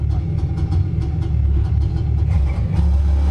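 Car engine in a SimCraft racing simulator, a loud steady low rumble with a continuous motor drone throughout, no voices over it.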